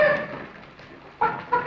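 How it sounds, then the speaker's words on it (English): A chicken clucks in a few short bursts near a farm house, fairly close and clear, with quieter gaps between the calls. "Jethro, go on out there and catch us a chicken."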